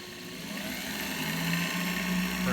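An electric motor spins a blue drive belt on a workshop tool, producing a steady, moderately loud hum and whine that holds even throughout with no voices.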